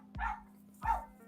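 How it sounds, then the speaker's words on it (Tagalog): A dog gives two short, sharp barks about two-thirds of a second apart, close and moderately loud, with a faint steady hum underneath and no talking. "Ito po yung aso ko."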